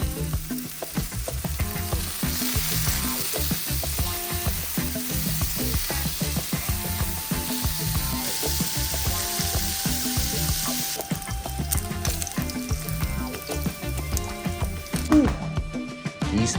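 Samgyeopsal pork belly fries in a pan with a loud, continuous sizzle and crackle, pops and some clatter throughout, close and busy, with no talk.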